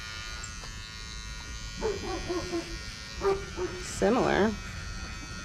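Electric clippers shave a wether ahead of banding, giving a steady, close electric buzz that runs throughout while someone talks over it.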